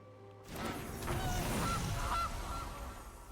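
After a quiet start, the Gilded Goose card in MTG Arena enters with a whoosh and then several nasal goose honks, moderately loud and close, with no talking over them.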